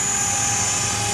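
A TREX 500 RC helicopter flies nearby, its rotor and motor giving a loud, steady high-pitched whine with a constant buzzing drone, no voices.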